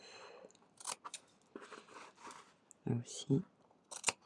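Scissors snip through fabric and lace during a no-sew scrapbooking bonnet craft, a few sharp crisp cuts near the end following rustling handling, close and quiet with someone talking briefly.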